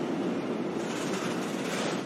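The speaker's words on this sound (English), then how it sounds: "Every one of those trains you just heard going over the Alps" Freight trains carrying pasta over the Alps rumble past in a steady, dense roar of rolling wagons, continuous and fairly loud with no voices.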